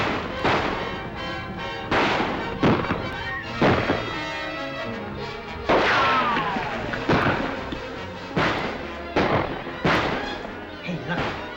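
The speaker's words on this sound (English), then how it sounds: "Keep shooting, fellas." Gunfire from men shooting in an old western film rings out as sharp, repeated shots at irregular intervals, loud and close, echoing over a busy outdoor action soundtrack.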